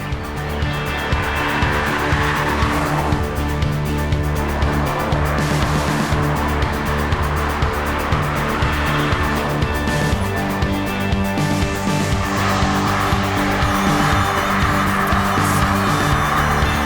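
A Porsche 959 races hard, its engine roaring loudly and continuously as it revs up and shifts, with tire squeal mixed into the driving noise.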